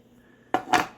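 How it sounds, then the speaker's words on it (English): A small pocket knife blade snaps shut, two sharp metallic clicks close together, loud and close in a quiet room with no talking. "Great snap on this little knife."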